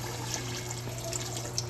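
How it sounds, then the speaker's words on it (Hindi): Water poured into a pressure cooker holding mutton in a home kitchen, a steady splashing trickle running continuously at close range over a low constant hum, with no one speaking. "अब इसमें पानी ऐड करेंगे और इसको प्रेशर लगा देंगे।"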